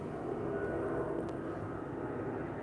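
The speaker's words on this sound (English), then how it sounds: "There's a plane helicopter passing over" A plane or helicopter passes overhead with a steady, broad engine roar that stays even and fairly loud throughout, with no voices over it.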